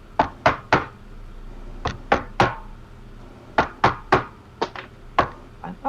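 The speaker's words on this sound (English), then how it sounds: "You hear knocking randomly around the house or castle." Sharp knocking on wood as a sound effect in a tabletop role-playing game, in clusters of three or four raps separated by short pauses, loud and close with no talk.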